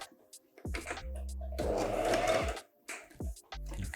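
A domestic sewing machine stitches a garment in bursts, its motor whirring up and stopping several times with brief pauses and fabric handling between runs, close and fairly loud.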